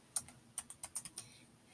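Several quick plastic key presses on a TI-Nspire graphing calculator, about eight crisp taps in an uneven rhythm, close and clear with no talking.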